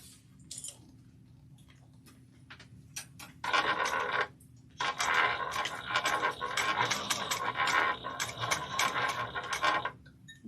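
A sewing machine stitches fabric inside out with matching thread, in two close, rapid mechanical runs: a short burst followed by a longer stretch of steady stitching, with scattered clicks around them.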